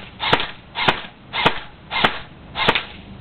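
An airsoft gun fires BBs in five evenly spaced sharp snaps, each a crisp crack with a short tail, close and loud with no voices.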